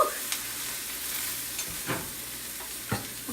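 Broccoli sizzles in a hot wok with sesame oil, a steady bright hiss with a few scraping stirs and crackles over it, close and continuous.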